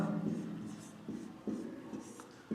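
A pen scratches across paper while a math solution is written out: continuous soft scraping strokes with a few sharper pen-down accents, close and steady, with a voice speaking underneath.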